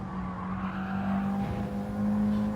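A race car engine revs hard while climbing a hill during a time trial, a loud sustained buzzing drone that swells and strains toward the end.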